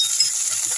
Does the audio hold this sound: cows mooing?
no